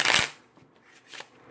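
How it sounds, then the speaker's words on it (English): A riffle shuffle of a deck of playing cards, a crisp burst of fluttering card edges up close at the start, then a softer, briefer riffle about a second later, with no talking. "a controlled shuffle, as long as you don't mess up those bottom five cards"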